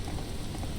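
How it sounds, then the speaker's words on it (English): Steady rain pours down in the survival game Mr Prepper, a dense, continuous hiss filling the whole short moment without any voices. "Wouldn't you know it would start raining right after I just watered them plants?"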